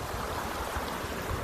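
A small waterfall trickling down a hillside into a pool makes a steady, soft rush of running water, continuous and fairly faint with no voices.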